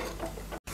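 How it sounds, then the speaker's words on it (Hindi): Sugar and grated apple stirred in a pan on the stove, a soft continuous scraping sizzle that breaks into a brief silent gap near the end. "तो अब हम शक्कर को और एप्पल को हिला देंगे।"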